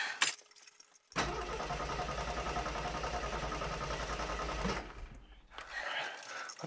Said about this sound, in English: Try the engine again.